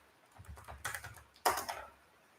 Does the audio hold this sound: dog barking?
no